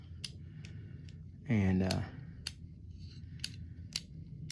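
Sharp, evenly spaced clicks from the anti-reverse pawl of a Berkley 415 fishing reel, faint and close, with a brief spoken word partway through.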